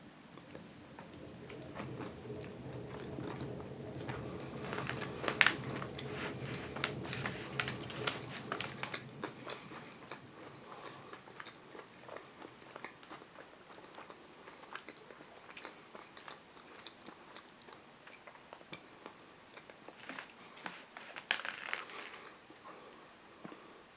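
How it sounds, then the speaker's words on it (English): Someone bites and chews La Torinese glazed panettone with almonds, soft crunching of the sugary frosting and quiet mastication, faint and close, with scattered small crackles over about twenty seconds. "So the initial bite with the pieces of frosting just crunching away very, very softly as I munch through"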